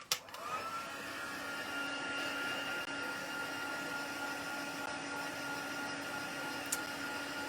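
A heat embossing tool blows steadily over a card to melt the embossing powder, a continuous close whirring hum with a constant airy hiss that starts abruptly and holds level throughout.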